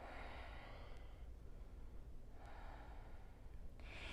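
Soft breaths during a yoga flow, a quiet inhale-exhale with a couple of short sharp sniffing breaths and a sigh, close and faint.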